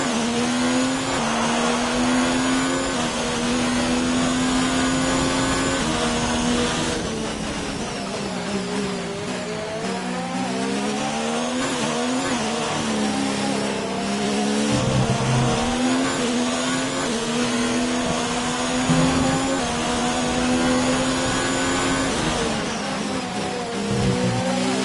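Formula 1 car engine in the racing game F1 19, a loud, continuous high-pitched whine that rises and falls as it shifts through gears and revs, with brief dips under braking.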